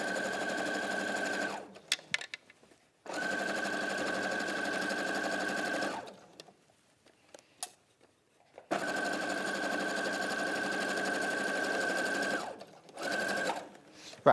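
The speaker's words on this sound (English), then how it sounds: "now I'm going to sew this diagonal seam" A sewing machine stitches a diagonal quarter-inch seam in two long steady runs of buzzing needle action, separated by short pauses with faint handling noises.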